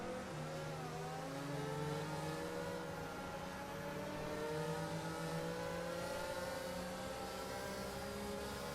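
Formula One race cars accelerate hard at a restart, a dense, steady roar of several engines with rising pitch sweeps, heard at a distance and sustained throughout.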